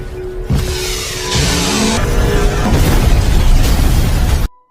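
The psychopath's house in a film goes up in a loud, close explosion, a roaring blast that swells in waves of crackling burning debris for several seconds before cutting off abruptly to near silence.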